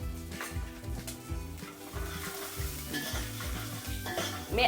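Semolina (rava) for upma fries and is stirred in a pan, giving a steady dry sizzle with repeated rhythmic scraping strokes close by and no talk.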